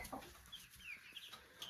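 Brahma chickens cluck softly nearby, faint scattered chirps and low clucks over quiet homestead background.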